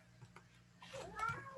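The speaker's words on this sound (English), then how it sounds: "Sorry, my cat is crying." A pet cat meows indoors: a short, faint cry near the end, with soft household sounds and a faint voice nearby.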